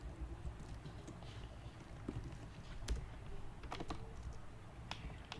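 Quiet, irregular clicking of a computer keyboard as Lua code is typed, scattered keystrokes with a few sharper taps over a low room hum, no talking.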